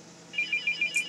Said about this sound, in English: there goes my phone, I'm going to ignore it.